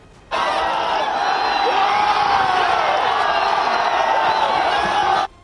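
Large political rally crowd cheering and shouting for Lalu Yadav, a dense roar of many voices with whoops, loud and sustained for about five seconds before cutting off abruptly.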